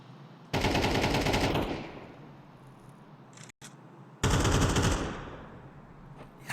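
Rifle fire in Counter-Strike on the Overpass map during an ESL Challenger Atlanta 2023 match: two loud bursts of rapid automatic shooting, separated by a few seconds of quieter ambience, with no talking.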